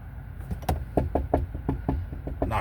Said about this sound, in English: Knocking on the door.